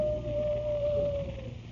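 A long, steady wolf-like howl imitating a wife calling, a single sustained wavering tone from a 1937 radio comedy sound effect, over faint background noise.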